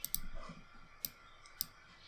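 Sharp computer mouse clicks, three distinct ones spaced about half a second apart, close and fairly quiet over a faint room hiss.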